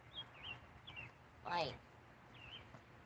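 A bird calls several times outdoors, short high chirps and a brief trilling phrase, fairly faint with a soft background hum.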